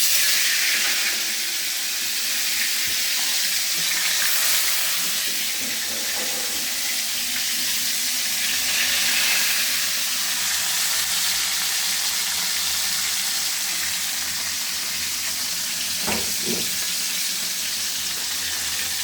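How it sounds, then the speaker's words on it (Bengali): Three pieces of large koi fish fry in a pan, a steady dense sizzle and crackle that never lets up, with occasional soft clinks and knocks from utensils near the pan. "বড় মাছটাকে ছোট করে 3 পিস করে করেছি, এখন ভাজবো।"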